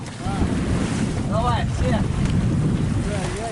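Wind buffets the microphone and river waves churn against a sagging raft in a loud, constant roar, with people talking and shouting over it.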